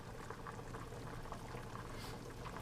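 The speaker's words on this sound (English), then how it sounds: "You're going to see more bubbles." Water boils in a pot of pasta on a stove turned up to medium, a steady, faint bubbling hiss with soft pops running throughout, heard alone without talk.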